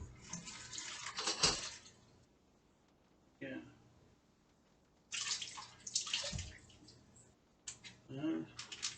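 Tap water runs in bursts while food is rinsed in a kitchen sink during budget cooking, splashing loudly in several separate spells with quiet gaps between them; a brief voice is heard once.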